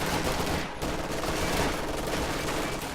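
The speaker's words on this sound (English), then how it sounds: "make it hard for their machine guns to pin me down" Sustained machine gun fire in a Company of Heroes 2 battle between US forces and Wehrmacht assault engineers, a dense continuous clatter of bursts at steady loudness across the whole stretch, alone without voices.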